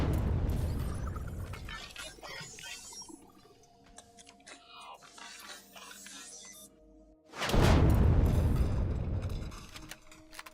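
Loud rocket explosions in the space-survival game Empyrion Galactic Survival, a crackling debris-filled blast opening the clip and a second heavy boom erupting near the end, with quieter mechanical rumble and hum between.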